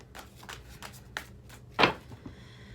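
A tarot card deck being handled, with soft shuffling and card flicks ending in one louder riffling snap, close and quiet, with no talk.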